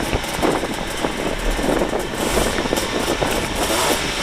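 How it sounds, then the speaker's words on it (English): A classic Austin Healey 3000 sports car runs steadily at a car show, its engine a rough, continuous rumble that stays loud and fairly even, mixed with background crowd noise. "A classic Austin Healey 3000 driven by Les McGuffin."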